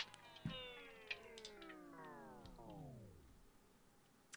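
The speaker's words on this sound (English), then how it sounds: "This is my old cat." An old pet cat meowing: one long, drawn-out, descending meow lasting about three seconds, fairly close but quiet, with a few small clicks around it.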